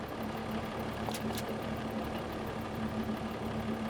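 In a farming video game, an International 1206 tractor idles with a low, even engine hum and a faint steady tone, moderately quiet and unbroken, with a couple of brief clicks midway.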